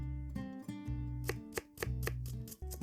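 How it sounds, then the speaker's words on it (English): A knife chops an onion in the video game Café Stella, several crisp, close chops in quick succession layered over steady background music. "Akazuki-san begins by finally chopping up one onion, handling her knife with a surprising amount of skill"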